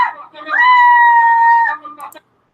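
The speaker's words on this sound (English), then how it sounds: "Okay, I've had about enough of that screaming." A sustained scream from a played video, a single loud, high, tonal wail held for over a second, with a short ragged cry after it, then silence.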